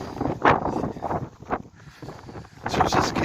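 Strong wind gusting across an end-of-January vegetable garden with leeks, garlic and onions, buffeting the microphone in loud, uneven surges that drop briefly and then swell again.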